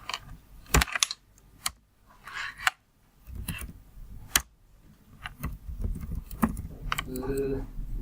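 Typing on a computer keyboard while writing a database query, irregular close clicks and short bursts of keystrokes between pauses, with someone talking at times.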